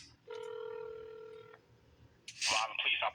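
A single telephone keypad DTMF tone for the digit 2 sounds steadily for about a second, followed shortly by a burst of clattering noise.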